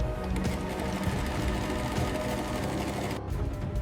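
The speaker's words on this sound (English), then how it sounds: "Sole stitching creates a durable bond that withstands daily wear and tear." In a cow leather factory, a sewing machine stitches a leather sole with a steady, rapid mechanical whir and chatter, fairly quiet and unbroken, ending in a brief pause and restart.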